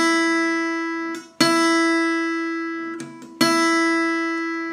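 The low E string of an acoustic guitar, tuned for a blues lesson, is plucked three times, each note ringing out clearly and sustaining before the next pluck, with no talking.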